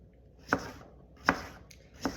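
Three sharp knife chops through zucchini on a cutting board, evenly spaced about three-quarters of a second apart, close and crisp with quiet pauses between.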